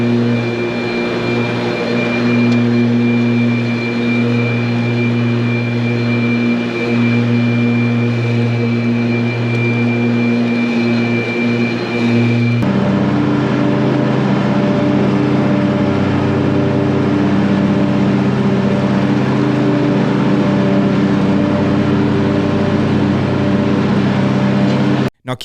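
A Ryobi 54-inch battery-powered electric zero-turn mower runs. Loud, steady motor whine with a tonal hum holds throughout, shifts pitch midway, and cuts off abruptly at the end.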